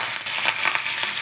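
Curry leaves sizzle in hot oil with asafoetida while tempering a cluster bean (goru chikkudu) chutney, a loud, dense, crackling hiss with sharp spitting pops scattered throughout, close up and unbroken by voices.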